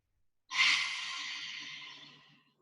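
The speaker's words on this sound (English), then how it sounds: "Inhale, exhale out through your mouth" A single deep exhale pushed out through the mouth during yoga breathing, starting suddenly after a short silence and fading slowly over about two seconds as a close, breathy whoosh with a faint hum beneath.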